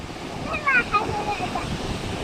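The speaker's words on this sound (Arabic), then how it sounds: "خلاص الموج الحين اقوى يا حماده، اي رسمه بتسويها بيمسحها الموج" Sea waves wash onto the shore in a brief, continuous rushing hiss with wind buffeting the microphone, while a faint voice comes through in the middle.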